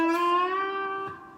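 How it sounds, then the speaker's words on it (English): A slide guitar with low action sounds one sustained harmonic note that holds steady for over a second, with a faint buzzy touch near the end. "you don't want to have the sound of hitting frets while you're playing."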